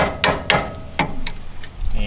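Hammer strikes on a loose brake plate of a 1979 Mazda RX-7 during brake work, a few sharp metallic bangs at uneven intervals, close and fairly loud over a low background rumble.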